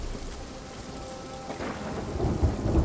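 A Sea of Thieves thunderstorm rumbles over steady rain at sea, low thunder rolling and swelling louder toward the end beneath the constant hiss of falling water.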